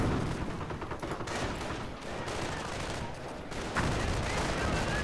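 Dense gunfire in a video game battle, rapid overlapping shots from rifles and a machine gun forming a continuous, moderately loud barrage throughout, with faint talk underneath.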